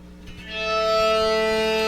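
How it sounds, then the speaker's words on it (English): An EBow held over the G string of a guitar draws out a sustained note that swells in gradually and then holds steady and smooth, with no attack. "The EBow is a handheld synthesizer that provides long sustained notes when held over a single string."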